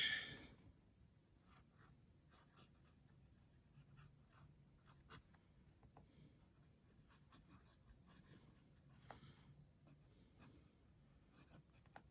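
Fountain pen with a Kaweco premium steel nib writing on paper, faint close scratching strokes in short irregular bursts, with a dog panting softly nearby.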